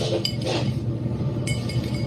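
A drinking glass is handled, giving a few light, bright clinks over a low background murmur. The taps are short and spaced apart, with no talking over them.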